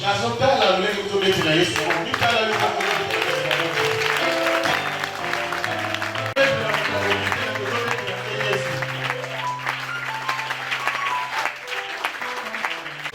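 A church congregation applauds at a Sunday service, sustained clapping with music and voices mixed in, continuing steadily for many seconds.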